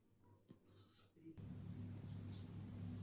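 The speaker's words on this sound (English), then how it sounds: "The barred owl, I think." A barred owl gives a short hooting call, moderately clear, and then a steady low hum and background noise take over.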